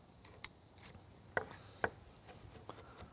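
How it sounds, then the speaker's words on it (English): A knife dices a pepper on a cutting board while mako shark is being prepared, giving a few sharp, sparse chopping taps spaced irregularly, two of them clearly louder, over a quiet kitchen background. "I'm just dicing up the pepper"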